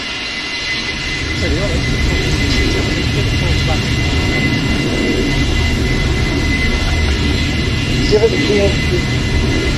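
A C-17 military jet aircraft at an air show, a loud, steady roaring engine drone that fills the whole stretch, with people talking and shouting nearby over it.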